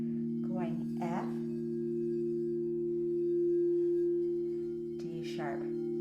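A crystal singing bowl rings the note F as a steady, pure sustained tone that hums evenly throughout, with a person speaking briefly over it near the start and again toward the end.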